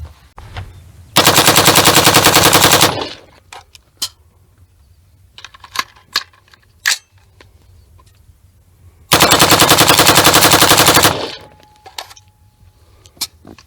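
Loud, close bursts of rapid automatic fire from an Expo Arms 11.5-inch Patrol Series AR upper, two long sustained strings each roughly two seconds, separated by a quieter gap with scattered clicks and handling noises.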